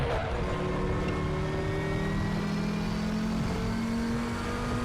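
An Audi TT RS VLN race car engine drones steadily at the Nordschleife in the RaceRoom racing game, its pitch climbing slowly as it pulls through a gear, loud and continuous with no talk.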